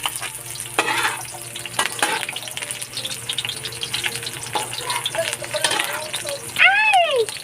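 Garlic frying in hot, spattering cooking oil in a home kitchen, with a steady broadband sizzle broken by stirring scrapes, while several people talk nearby throughout.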